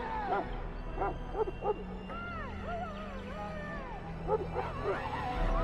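Mabari war hound from the fantasy game Dragon Age: Origins, yipping and whimpering in short bursts amid ambient game sound, with a few rising whistle-like tones and no voice over it.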